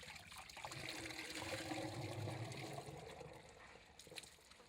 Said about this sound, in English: The liquid is then released into the main chamber